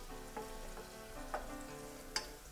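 Shallot and garlic sauté quietly in a pan as the base for a roux, giving a soft continuous sizzle with a few brief clinks or stirs and no talking.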